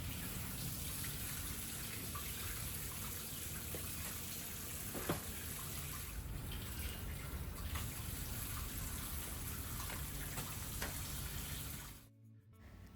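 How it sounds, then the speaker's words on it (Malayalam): Steady running water from a tap splashes over banana leaves being washed for Kannur-style pathal, a continuous close wash that cuts off abruptly near the end. "ഇത് വാഴയിലേക്കൊന്ന് കഴുകി എടുത്തിട്ടുണ്ട്"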